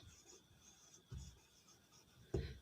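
Writing on a board during an English grammar lesson: short scratchy strokes and soft rubbing, a few sharper taps, faint and close with no voice.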